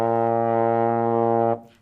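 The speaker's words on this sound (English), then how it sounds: "slide position 1. And it's going to sound like this, B flat." A single sustained trombone note, B flat in first slide position, held steady and full for about a second and a half before cutting off abruptly, close and alone.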